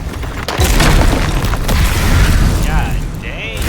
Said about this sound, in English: The booming footsteps that woke him this time were nothing like those of his